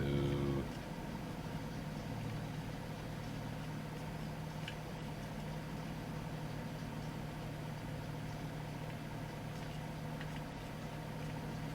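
A big tractor engine in Farming Simulator 22 runs steadily, a continuous mid-pitched drone with a brief louder rev at the start, no voices.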